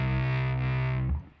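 A distorted electric guitar sounds its low C string in C standard tuning, picked once and held as a loud, buzzing sustained note before being cut off abruptly.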